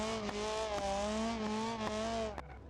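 A race car in the BeamNG video game holds a loud, steady engine drone that rises and wavers in pitch, broken by a few sharp thuds and tire noise, then cuts off near the end, with no speech.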